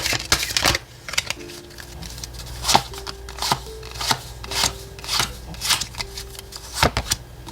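Tarot and oracle cards being shuffled by hand, a series of crisp riffling bursts and soft slaps at an irregular rhythm, close and clear with no talk over them.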